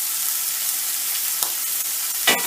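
Prawns fry in a hot pan with a steady, dense sizzle throughout, broken by a couple of brief sharper crackles or pan knocks near the end, with no talking.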